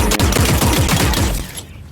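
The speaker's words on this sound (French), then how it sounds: "Taking fire." Rapid automatic gunfire from a battle-royale shooter game, The Cycle, in one dense, loud, continuous burst of closely spaced shots that stops abruptly near the end, with no voices.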